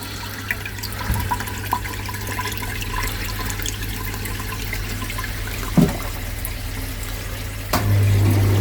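Water rushing through a drain during a purge, a continuous close gurgling flow with brief clunks and a louder surge near the end, no talking.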